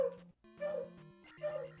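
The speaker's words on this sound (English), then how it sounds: "I can hear your dog" A dog in the room gives a few whining, yelping calls during a tournament broadcast. The calls come in short, high, tonal bursts split by a brief pause, fairly close but not loud.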